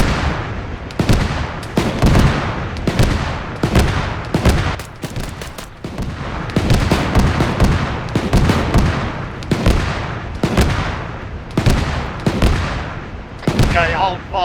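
25 mm cannon gunfire in an armored-vehicle combat video game, heavy repeated bursts of booming shots in quick rhythmic volleys that go on continuously and loudly, with brief gaps between strings of fire.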